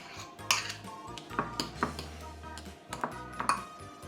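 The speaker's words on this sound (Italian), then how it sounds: "Lo schiaccio appunto bene con una forchetta e aggiungo un goccettino di olio di semi in maniera da ottenere una pomata." A fork clinks and scrapes against a dish while softened butter with a dash of seed oil is mashed into a paste, with scattered light metallic taps and short scrapes, close and fairly quiet.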